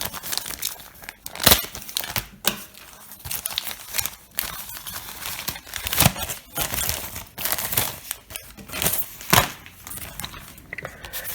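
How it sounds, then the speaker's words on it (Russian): A thick cardboard envelope holding banknotes is torn and crinkled open up close, with a steady run of ripping, crumpling and crackling paper sounds and no talking. "Запаковано в такой плотный картонный конверт. Вскроем."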